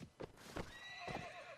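Cavalry horses in the Mount and Blade Warband video game snort and whinny over a few hoof thuds, faint and alone with no talk.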